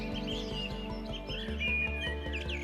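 Wild birds in the Serengeti grasslands chirping and calling in overlapping tweets over a steady low drone, a busy layered chorus heard without talk.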